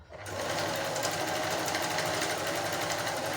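An old Singer zig zag sewing machine (1302/1288), pedal-driven, stitching after a brief start: a fast, even mechanical whirr and rapid needle chatter running loud and steady to the end.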